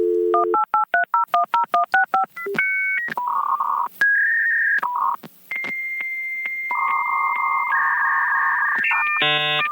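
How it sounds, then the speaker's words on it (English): A dial-up modem connects over a telephone line: a quick run of touch-tone dialing beeps, then a sequence of steady handshake tones and pitched whistles that shift step by step, ending in a burst of harsh static, loud and alone. "you had to connect to your computer via a modem with a telephone line"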